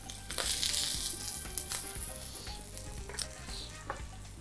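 Potatoes sauté in a hot pan, sizzling and crackling continuously up close, with occasional stirring and scraping knocks as they are turned, no voices over the frying.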